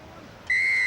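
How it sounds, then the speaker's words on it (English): A referee's whistle blast at a 1978 rugby test between New Zealand and Australia: a single sharp, steady high-pitched blow cutting in sharply and holding to the end. "Gary Cook with a blast on the whistle"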